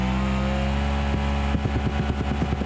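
A truck engine in the BeamNG driving game bounces off the rev limiter in third gear, a steady high-revving drone that breaks into rapid, regular stuttering cuts over the last second, loud and close with no talk.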